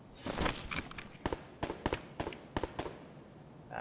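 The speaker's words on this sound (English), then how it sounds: "That is, sounds like suppressed fire over there." Suppressed gunfire in Escape from Tarkov, a string of sharp muffled cracks and pops at irregular spacing, fairly quiet and distant-sounding, about a dozen shots in quick bursts.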